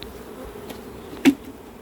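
Honeybees at a hive being gently brushed into their colony during winter preparation give a low, steady buzz close by, with a brief brushing knock partway through.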